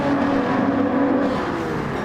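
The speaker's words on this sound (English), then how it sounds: "you gotta love the sounds of those engines just going through" Race car engines drone steadily as the field streams past on a racetrack, a continuous loud whir without clear individual pass-bys.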